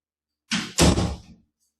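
A yoga strap unhooked from door handles gives a quick double clunk and rattle against the door, close and brief, in a quiet room.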